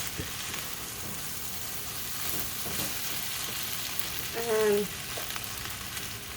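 Shrimp and pork fried rice sizzles steadily in a hot pan, a continuous close frying hiss with brief stirring scrapes and a single spoken word near the start.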